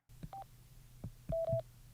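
Sena 60S EVO headset giving tones on a long press of its phone button: a short soft beep, a low click, then a longer two-part electronic tone near the end, quiet and with no talk.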